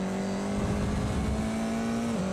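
A Formula 4 race car engine drones loudly in a sim racing game at Winton, holding a steady high pitch before dipping briefly as if shifting or lifting.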